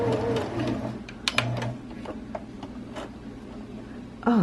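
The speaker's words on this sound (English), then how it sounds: "Stop and give it a couple back stitches all the way through." A home sewing machine back stitches a fabric face mask in a steady low mechanical whir with short ticks, fairly quiet and heard alone.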